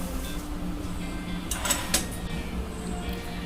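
A sewing machine stitches kurti fabric with a steady low mechanical hum and a few brief rattling bursts in the middle, close and continuous throughout.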